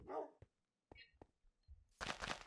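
A dog in the Minecraft video game gives a handful of short, separate barks and yips spaced irregularly, followed by a louder burst at the end, all fairly faint and without talk.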